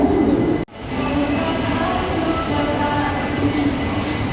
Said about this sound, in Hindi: प्लेटफॉर्म पर हमारी ट्रेन अच्छे से कर्व कर रही है